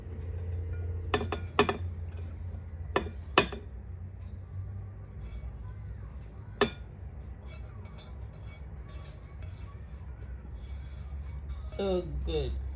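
Egg fried rice is spooned into white ceramic bowls, giving several sharp, bright clinks and scrapes in the first seven seconds over a steady low background hum, then quieter shuffling.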